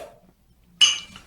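Glasses of San Miguel Pale Pilsen beer clink together in a toast, a single sharp bright chink after a near-silent pause, ringing briefly before fading.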